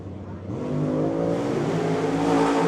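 A Chevy Nova drag car engine runs rough after losing a couple of cylinders, a loud, steady low rumble that swells slightly as the revs build.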